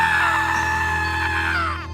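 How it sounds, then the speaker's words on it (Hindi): Cartoon characters screaming loudly together, a sustained high-pitched shriek held for about two seconds before trailing off and dropping in pitch. "ये देखकर नोनू मोनू और रॉकी बहुत जोर जोर से चिल्लाने लगते हैं।"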